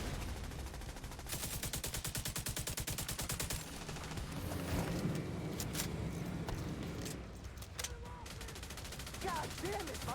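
Rapid sustained automatic gunfire from a firefight in The Division 2 video game, a dense rattling burst over several seconds followed by scattered shots and impacts.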